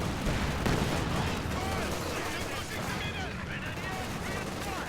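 Troops firing in the video game Company of Heroes 2, a dense continuous wash of gunfire and battle noise with rattling shots throughout, under a commentator's talk.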